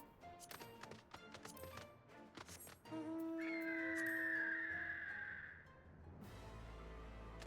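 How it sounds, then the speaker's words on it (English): Bird mount song in the Final Fantasy XIV online game, a few seconds of tonal in-game music notes with a rising chime swell that cuts off abruptly, fairly faint with no talking. "I want to actually see what the song is for the bird mount that I got"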